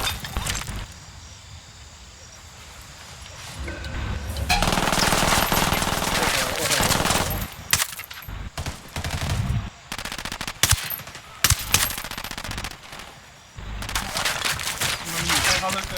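Automatic gunfire from the Ghost Recon Wildlands shooter game, loud bursts of rapid rifle fire that keep stopping and restarting, with a brief quieter stretch at the start and someone talking over parts of it.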